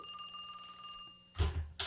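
A telephone bell rings in a rapid trill for about a second, moderately quiet, then stops and is followed by muffled handling thumps during a podcast recording.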